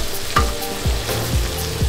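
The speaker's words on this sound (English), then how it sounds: "Our onions are nice and tender now, so I'm adding in" Pancetta frying with tender onions in a pan gives a steady close sizzle, with a stirring scrape roughly every half second and no voices.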